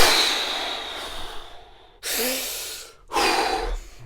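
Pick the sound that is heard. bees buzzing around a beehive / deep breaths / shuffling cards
deep breaths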